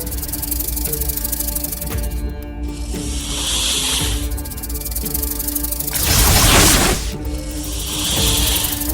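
A loud, sharp snake hiss bursts out in several long sprays, rising and falling across a tense scene in a Tamil TV drama, with a harsher, broader hiss swelling near the end.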